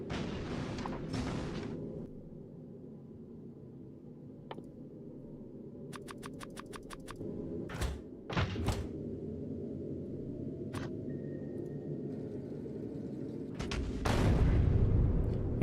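Artillery fire in a space strategy video game: scattered sharp booms and rapid clicking bursts with short gaps of quiet, plus a heavier rumbling blast near the end.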